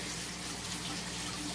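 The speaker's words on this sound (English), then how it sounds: "drain some water." Water gushes steadily as it is drained from home aquarium tanks holding Neocaridina shrimp, a continuous close rushing flow with no pauses.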